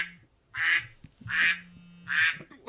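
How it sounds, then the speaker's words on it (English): Three drawn-out, nasal duck quacks spaced evenly apart, loud and close, with a faint low hum underneath. "Why is it a duck?"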